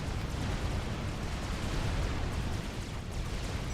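Missile explosions in a Supreme Commander custom 4v4 battle, a dense continuous roar of blasts and rumbling booms, loud and steady throughout with no speech over it.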